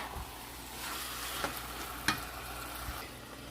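Empanada filling with chicken being stirred in a pan over a medium flame, a soft steady sizzle broken by a few scraping knocks of the spoon against the pan, with no voices.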